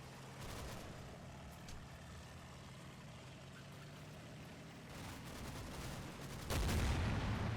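Gunfire on a machine-gun position in Combat Mission: Battle for Normandy crackles as scattered distant bursts over a low rumble, ending in a louder close blast near the end.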